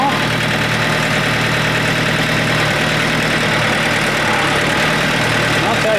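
A tractor fitted with a forklift attachment idles loudly and close by, a constant low rumbling drone that holds steady from start to finish.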